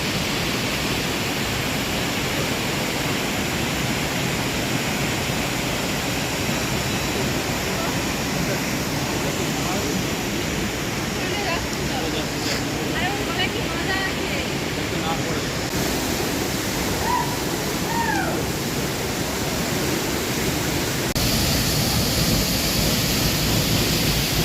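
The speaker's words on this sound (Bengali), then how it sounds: "এই যে মেন ফলসটা একদম ওপর থেকে পড়ছে পাহাড়ের" A mountain waterfall near Gangtok pours down from high above in a steady, loud, broadband rush that fills the scene without a break, while people talk faintly beneath it.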